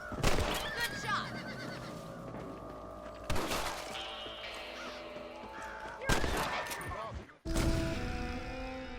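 Rifle shots from the Western game Red Dead Redemption at night: four loud, sharp cracks spaced a few seconds apart, each ringing out briefly over a busy game soundscape.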